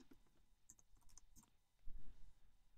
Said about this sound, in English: just type loop into the search window